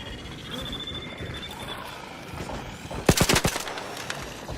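Gunfire in the video game Arc Raiders: a sudden rapid burst of several loud, close shots near the end, after a stretch of low ambient game noise.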